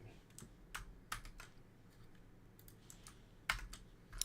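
Keys tapped on a computer keyboard in short irregular bursts of clicks with pauses between, close and fairly quiet over a low background hum.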